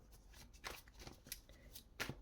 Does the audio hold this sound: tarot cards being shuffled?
yes